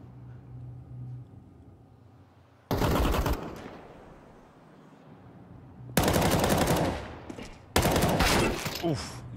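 Counter-Strike gunfire erupts in loud bursts of rapid automatic shots, first around the third second and again in two longer volleys near the end, separated by quieter stretches of faint background tone.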